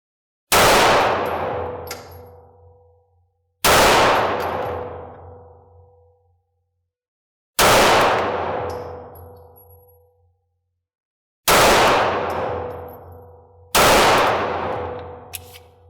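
Five loud, sharp shots from a Canik 9mm handgun at a 10-foot range line, each a crisp report with a ringing decay, spaced a few seconds apart with silence between and no talk.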